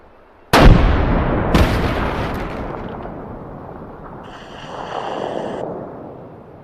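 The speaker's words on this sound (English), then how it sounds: "This is an actual anti-material rifle." An anti-material rifle fires two very loud, sharp booms about a second apart, each with a long rumbling decay that rolls on for several seconds, with no talking.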